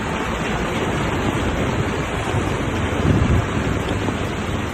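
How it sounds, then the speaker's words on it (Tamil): Floodwater surges through city streets in eastern Spain, a steady broadband roar of rushing water mixed with wind-like rumble, loud and continuous throughout with a slight swell near the end. "வீதிகளில் வெள்ளம் பெருக்கெடுத்து ஓடி வீடுகளுக்கு புகும் காட்சிகள் தற்போது வெளியாகியுள்ளன"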